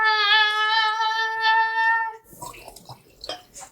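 Liquid pours into a glass in a steady, close stream whose pitch climbs as the glass fills. The pour lasts about two seconds and is followed by a few faint drips and small clinks.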